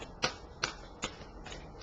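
A deck of playing cards is shuffled three times in quick riffling bursts, each a short crisp rustle spaced about every half second, fairly close and quiet over faint room hiss.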